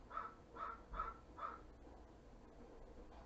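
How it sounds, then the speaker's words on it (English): A crow caws four times in an even rhythm, moderately distant and fairly faint, followed by quiet background hiss. "That sounded like a crow was in the house, y'all."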